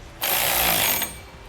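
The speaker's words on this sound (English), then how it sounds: "we'll use a 9/16 wrench and a 9/16 socket and tighten down our clamps" A 9/16 socket, likely on an impact or power driver, tightens clamps on air helper springs under a 2014 Chevrolet, making one loud buzzing burst of just under a second before stopping.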